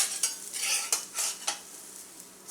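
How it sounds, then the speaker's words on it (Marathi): Potato and leftover chapati dough roast in a pan over medium gas, giving a soft crackling sizzle with a few stirring or scraping bursts, close and steady, with no talking. "थोडंसं भाजून घेऊया, पलटी करून घेऊया"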